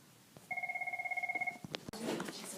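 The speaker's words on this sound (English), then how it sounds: "Let me answer that phone." A telephone rings once with a steady warbling electronic tone lasting about a second, close and clear, during a drawing lesson, followed by faint handling noise.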